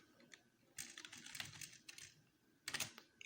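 Someone types a title on a computer keyboard in quiet, close bursts of rapid key clicks separated by short pauses, with no talking.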